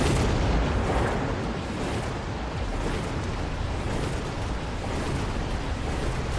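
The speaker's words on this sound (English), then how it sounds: "Those missiles should have been a couple meters apart, so they didn't trigger that easily" Missiles explode in the Mecha Mini Masters video game as a dense, continuous roar of blasts and rumbling booms, loud and unbroken for several seconds, with no voices.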